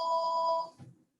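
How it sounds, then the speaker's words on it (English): A telephone rings indoors with a steady electronic bell tone for about half a second, then cuts off, fairly faint and alone in a quiet room. "I hope my husband gets that phone quickly"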